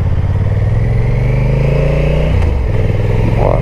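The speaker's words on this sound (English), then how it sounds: "I'll demonstrate the quick shifter, how smooth the quick shifter is." A Honda NT1100 motorcycle accelerating hard up through the gears, its engine note a loud, steady drone that drops briefly with each smooth quick-shifter change before climbing again, recorded close up with no talk.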